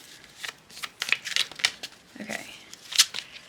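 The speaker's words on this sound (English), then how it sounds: "I hope I shuffled these good enough." Tarot cards are shuffled by hand in a string of crisp, papery riffles and slaps, close and fairly loud, with a brief spoken word in the middle.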